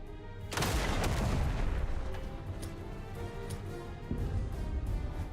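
Sustained gunfire in the video game Duet Night Abyss, a dense, loud burst of rapid shots and booming impacts that rolls on continuously, with a fresh surge of firing near the end.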